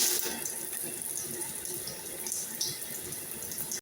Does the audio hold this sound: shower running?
yes